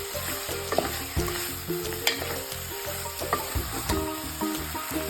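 Spices and potatoes sizzle and fry in a pan for a quick mutton curry (mutton rassa), with steady hissing and repeated stirring scrapes, close and continuous.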